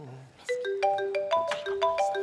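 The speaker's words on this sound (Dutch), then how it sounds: "Telefoon. Het is er voor mij." A telephone ringing, heard as a bright electronic melody of quick rising and falling beeping notes repeated in a steady pattern, clear and fairly close.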